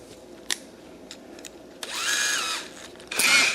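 Power drill in a home shop, two short high-pitched whirring runs, the second one louder, with small clicks and taps between them and no talk.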